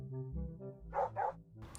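A friendly virtual dog in a VR park scene gives two quick barks over a steady droning background hum.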